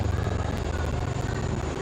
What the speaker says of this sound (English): A lone helicopter, rather 3 helicopters in big formation as they move forward.